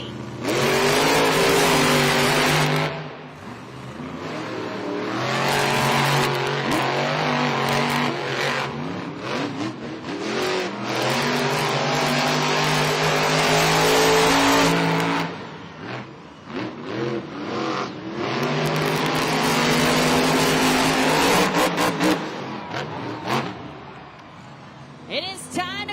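Monster trucks El Toro Loco and Classroom Crusher racing in a Monster Jam stadium event in San Diego, loud roaring engines revving and surging with rising and falling pitch, briefly dropping between bursts, with an announcer talking over the action.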